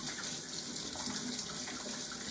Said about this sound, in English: Go ahead, turn your sink on, stick your mitts underneath, get them nice and moist.